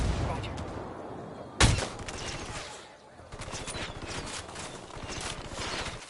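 Rebel fighters opening fire in Ghost Recon Wildlands, a sharp close gunshot followed by sustained bursts of rapid automatic gunfire, with a voice speaking under the shooting.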